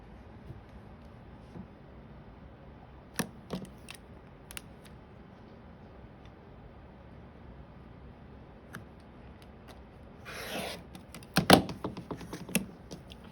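Scissors or a rotary cutter slicing through quilting fabric while making hourglass units, a few sharp isolated snips early on, then a louder cluster of cutting strokes toward the end in a quiet room.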